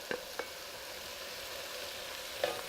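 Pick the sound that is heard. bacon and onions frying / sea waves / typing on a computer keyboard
bacon and onions frying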